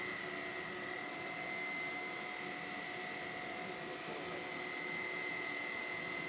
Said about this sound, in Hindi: vacuum bath